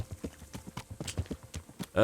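Horse hooves clip-clop in steady, fairly close rhythm in Kingdom Come Deliverance, a medieval role-playing game, the regular strikes continuing throughout with faint background sounds.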